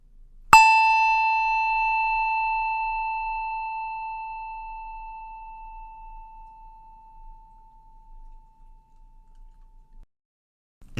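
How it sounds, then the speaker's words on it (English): A single memorial chime is struck once and rings a clear A note, sustaining and slowly fading over about ten seconds in a quiet room. "And after each name is read, there is a chime."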